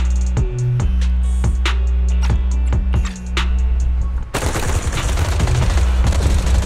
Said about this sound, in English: Gunfire erupts like a relentless downpour